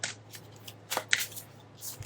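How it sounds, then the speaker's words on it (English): Tarot cards being shuffled in a few quick riffling bursts, soft papery flutters spaced across a quiet room with a faint steady hum beneath. "let me go ahead and shuffle the cards."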